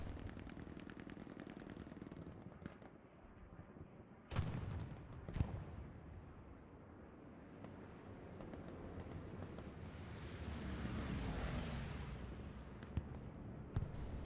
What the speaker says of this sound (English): Big bombing run on town center right now.